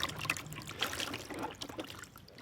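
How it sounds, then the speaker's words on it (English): Wax-painted cloth is rinsed in water for dyeing, giving soft, uneven trickling and splashing close by, faint and irregular with small drips and no voices. "Su Yan To rinses the cloth painted with liquid wax, then soaks it in the dye."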